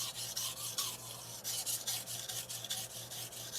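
Shirogami steel nakiri blade scraped back and forth over slurry on a Japanese natural sharpening stone (Amakusa, Tanaka Kyoto), a close rhythmic gritty rasp of repeated strokes, about three per second.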